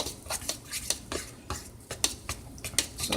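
A utensil scrapes and clinks around a pan while gravy is stirred with milk for biscuits and gravy, in brisk repeated strokes, close and bright, with no talk.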